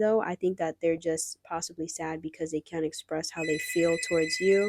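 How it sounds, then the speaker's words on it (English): A telephone rings in the background, its repeated high electronic tones sitting under steady close-up talk from a woman giving a tarot card reading. "Sorry about the phone ringing."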